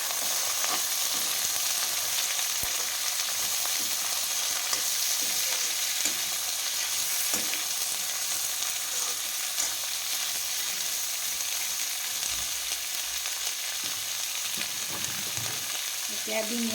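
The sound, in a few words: drumstick and potato frying in a pan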